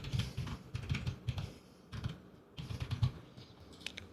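Fingers type on a computer keyboard in quick bursts of clicky keystrokes with short pauses between them, close and fairly quiet.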